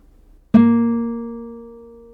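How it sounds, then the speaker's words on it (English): After a brief quiet moment, one plucked guitar note A sharp on the 3rd string, 3rd fret, sounds sharply and then sustains, fading gradually on its own. "A sharp is on the 3rd fret."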